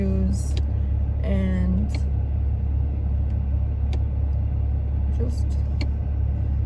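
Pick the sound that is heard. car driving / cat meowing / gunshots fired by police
car driving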